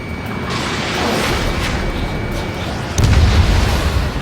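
An enemy aircraft shot down and exploding in Ace Combat 7, a loud rumbling blast under roaring jet noise, with a second heavier boom swelling near the end.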